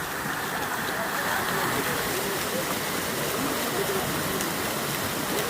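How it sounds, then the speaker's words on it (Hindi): Water flowing in a stream at a tulip garden, a steady broadband rush that stays loud and continuous throughout, with no pauses and no talk over it. "ये देखिए अच्छा दिख रहा है पानी बहता हुआ।"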